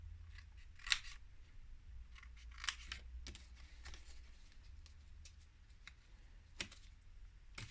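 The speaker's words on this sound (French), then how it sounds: "On a un petit rectangle, vous allez le couper. On va couper ça, là." Scissors snip paper into a small rectangle while building a 15x15 photo album structure, with a few sharp separate cuts standing out over a low steady background hum.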